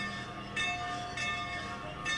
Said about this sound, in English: Midland Police are bringing in Santa on the famous train that has been primed and ready